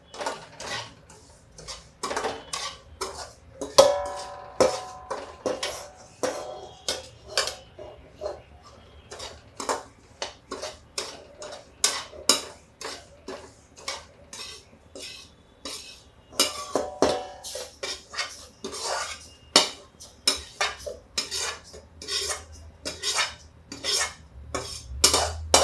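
Raisins being stirred and roasted with semolina in a pan over a low gas flame for pregnancy laddoos, a steady run of sharp spoon scrapes and clinks against the pan, close and fairly loud, with no talking.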